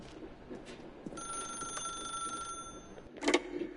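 A telephone rings in The Stanley Parable video game, a bright bell-like ring that sustains for over a second amid quiet room tone, then gives way to a louder clatter near the end, with no voices.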